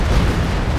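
Stuka dive bomber strike landing in Company of Heroes 2, a dense, loud low rumbling explosion sustained through the whole brief moment without any voices.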